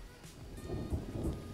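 Rain and a low thunder rumble play steadily from a video game set in a forest, faint and continuous with no talking.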